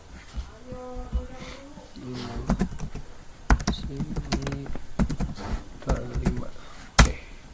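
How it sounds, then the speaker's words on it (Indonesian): Keys tapped on a computer keyboard in irregular bursts, close by, under ongoing talk. "Keputusannya ini kita ketik manual saja."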